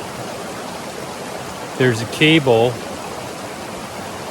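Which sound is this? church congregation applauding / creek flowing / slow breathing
creek flowing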